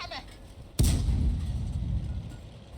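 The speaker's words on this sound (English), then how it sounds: "friendly artillery gets a nice shot and kills him" Friendly artillery fire in World of Tanks lands a single heavy boom, sharp and loud, followed by a long rumbling tail that fades slowly over a couple of seconds.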